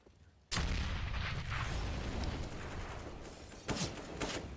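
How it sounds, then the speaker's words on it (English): Grenades burst in a Counter-Strike esports match, a sudden loud boom followed by a long rumbling decay and a second, smaller blast near the end, with no talk over it. "Nades going down in the banana."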